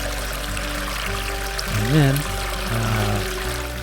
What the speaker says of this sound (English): I fill the freshwater tank with about 60 gallons